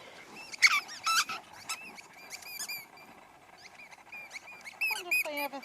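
A dog's squeaky toy gives repeated high, sharp squeaks in irregular clusters, fairly close but not loud, outdoors on grass.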